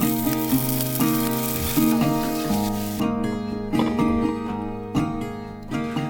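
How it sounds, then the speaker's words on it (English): Breakfast sausages sizzle and spit loudly in a hot pan, a dense continuous frying hiss close by with occasional scrapes and pops. "Iz has made us some sausages for breakfast"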